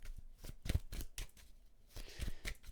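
Tarot cards riffle and slap as they are shuffled and drawn, a run of short papery flicks and soft thumps at close range with brief pauses between them.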